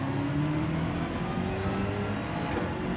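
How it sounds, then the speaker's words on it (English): Racing cars sliding through a corner at Spa Francorchamps in Gran Turismo 7, engines roaring steadily with a rising tonal whine and tyre noise, sustained and fairly loud with no voices. "Both me and the BMW behind had a big old slide there."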